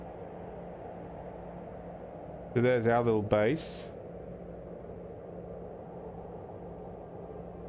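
A dust storm in the survival game Planet Crafter blows as a steady, low windy rumble and hiss that runs throughout, with someone briefly talking over it near the middle.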